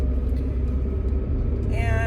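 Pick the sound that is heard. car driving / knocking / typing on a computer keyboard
car driving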